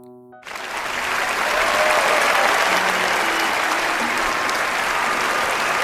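Applause from a crowd breaks out after a brief tonal note, swelling within a second into sustained loud clapping that holds steady to the end.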